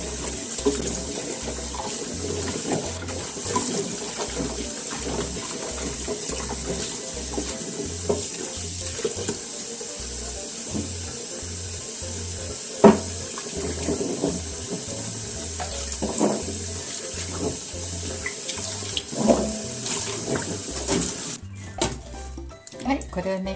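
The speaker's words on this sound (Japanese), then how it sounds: "これを洗ってね、今度は皮と土をきれいに取っていきます" Tap water runs steadily into a sink as rakkyo, Japanese scallions, are rinsed of skin and soil, with occasional clinks and handling noises and a voice talking over the flow.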